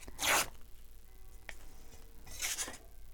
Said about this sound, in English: now I'm going to hand tear this because this needs to be wobbly